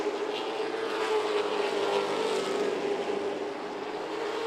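Stock race cars circle Myrtle Beach Speedway, a steady loud engine drone with a sustained tonal whine holding near and constant throughout, slightly easing toward the end.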